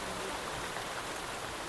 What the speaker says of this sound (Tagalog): Yan po, at lalo pang lumakas ang ulan